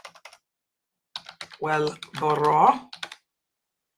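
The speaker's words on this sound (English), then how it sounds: "Let me type this so I can see if I can pull it in." Rapid clicking keystrokes on a computer keyboard come in scattered bursts, close and fairly clear, while a person speaks over part of the typing.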